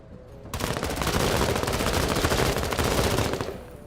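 Sustained automatic gunfire in the tactical video game Menace, a dense, loud rattle of rapid shots that starts abruptly and runs continuously for over three seconds with no voices.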